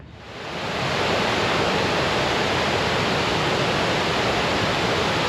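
McDonald Creek Falls in Glacier National Park, a steady roaring rush of falling water that swells in over the first second, then holds loud and unbroken with nothing else audible.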